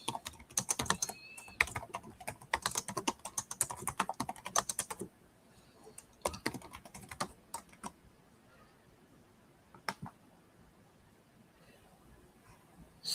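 Fingers type on a computer keyboard to take notes, quick irregular bursts of clicky keystrokes close by, pausing midway before a few scattered taps resume.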